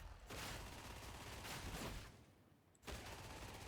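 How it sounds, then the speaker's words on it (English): Recon lasgun fire in Warhammer 40K: Darktide, a loud sustained burst of rapid shots for about two seconds, a brief lull, then firing resumes, dense and close. "The recoil las gun is incredibly accurate."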